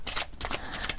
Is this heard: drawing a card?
yes